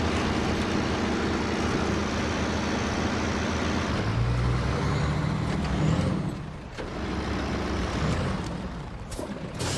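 Heavy off-road truck in SnowRunner grinding through deep mud in third gear, a steady loud engine drone with churning low rumble that dips briefly and then resumes, no voices.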